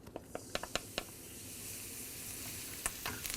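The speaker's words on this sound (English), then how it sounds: "we're just going to blend this together in a little saute pan and get that garlic and parsley soft" Garlic and parsley sauté in a small pan with a steady, faint sizzle, broken at the start and again near the end by a few sharp clicks of stirring.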